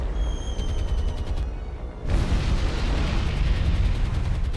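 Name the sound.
bomb explosions from a war strategy video game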